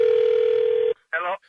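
A telephone dial tone hums steadily for about a second, then cuts off, followed by a brief electronic tone as a prank phone call begins.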